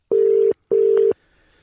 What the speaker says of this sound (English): That is the ring of Bobbyy Zamora's phone.